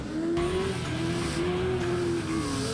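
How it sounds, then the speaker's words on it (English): Off-road race trucks at a Lancaster, California track revving their engines together, a loud sustained roar with a wavering whine rising and falling, and no talk. "Gentlemen, start your engines."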